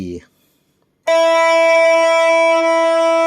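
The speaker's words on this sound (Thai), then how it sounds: "สายหนึ่งจะเป็นเสียง E" After a short bit of speech and a pause, a guitar's low E string is plucked and rings on with a bright, steady, sustained tone.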